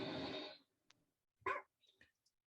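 A dog's brief bark or yip in an iMovie clip, faint and short, coming just after a plane's engine noise fades out in a cross dissolve, with a few small scattered sounds after.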